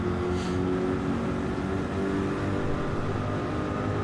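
A McLaren race car engine in Gran Turismo 7 drones steadily at high revs, a continuous loud mechanical whine and rumble with no pauses and no talking.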